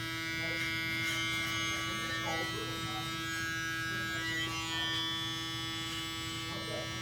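Electric hair clippers with a small blade, a Gold Wahl Magic Clip or Stylecraft Instinct, cutting hair under the neck, giving a steady, close, loud buzzing hum that runs throughout.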